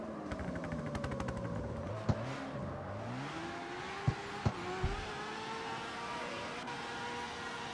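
Han's RX-7 in the CarX Street video game, its engine revving and sweeping up and down through the gears. Several sharp clicks and pops break in, and it carries on steadily and fairly close with no talk.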